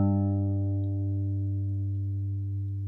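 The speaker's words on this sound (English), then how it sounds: "place it on the 3rd fret of the 6th string, E. It should sound like this" A single low G note on a guitar's sixth string, fretted at the third fret, rings out already sounding and fades slowly, steady and sustained with no other sound.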